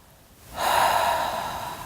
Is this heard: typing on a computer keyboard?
no